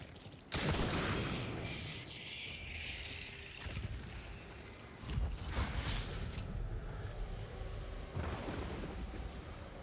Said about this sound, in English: I've fired big bullet